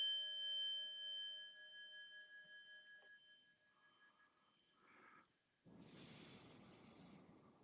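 Meditation bell rung once, a clear ringing tone with several sustained overtones that slowly decay and fade over a few seconds, followed by soft breathing and then a burst of broadband rustle.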